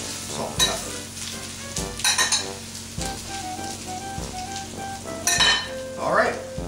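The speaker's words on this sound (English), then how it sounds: "Just take our spoon and turn those around again in the olive oil and the herbs, salt and pepper." Roasting potatoes in olive oil, herbs, salt and pepper are turned with a spoon in a hot pan, sizzling steadily with scraping stirs and metallic clinks of spoon against pan, close and clear.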